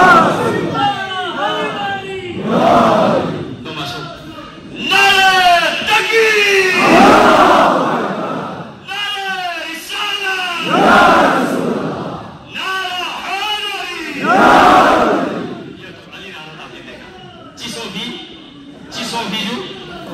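A mosque congregation during a Shia sermon shouts back in unison after the takbir call, several loud chanted responses from a large crowd, alternating with a single amplified voice leading between them.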